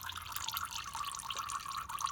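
Old, sludgy inverter coolant pours steadily into a bowl during an inverter pump and transaxle fluid change, a continuous close trickling and dripping with no talk.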